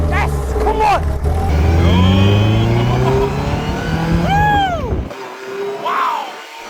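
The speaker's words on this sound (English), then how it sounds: "We've been going around, racing in the car." A car racing around the Silverstone circuit, its engine revving loudly with rising and falling pitch sweeps as it accelerates and shifts, close and continuous, with voices talking over it before it cuts out.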